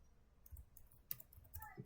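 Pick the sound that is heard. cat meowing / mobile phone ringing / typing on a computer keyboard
typing on a computer keyboard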